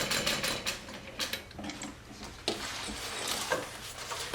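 Sewing machine stitching a rectangle in fabric, with bursts of rapid mechanical clatter broken by short pauses and clicks as the stitching stops and turns.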